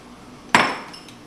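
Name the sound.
white chocolate chips added to a pot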